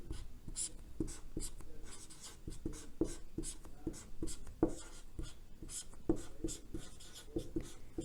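Handwriting on paper with a pen or chalk gives a series of short scratching strokes and light taps in an irregular rhythm, close and quiet, with no talking.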